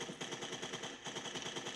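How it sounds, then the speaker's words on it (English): Machine gun fire rattles across a bridge in the Pegasus Bridge scenario of the game Valor & Victory, a rapid, evenly spaced burst of shots continuing throughout, moderately loud with no talking. "that guy's shooting across the bridge there"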